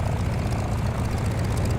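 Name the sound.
Airbus H160 helicopter in video game Microsoft Flight Simulator 2024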